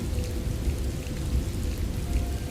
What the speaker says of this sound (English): A storm rages.